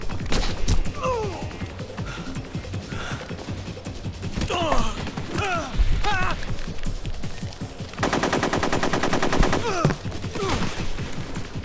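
Bursts of rapid machine-gun fire from the video game Metal Gear Solid 3 clatter through a hectic firefight, with a long sustained volley near the end and no clear talk.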